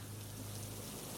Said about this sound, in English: So it's 6 days of rain